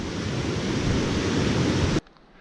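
Loud, steady rush of the Cheakamus River near a lake trail, a dense continuous roar of whitewater heard up close for two seconds before cutting abruptly to near silence.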